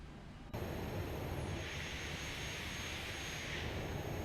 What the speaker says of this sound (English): All right, engines are starting.